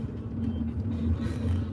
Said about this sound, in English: Oh, the traffic.